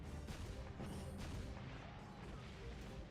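Cannon fire from the Ryu ga Gotoku Ishin video game, a dense continuous barrage of booming blasts and crashes that stays loud and steady throughout, with no speech over it.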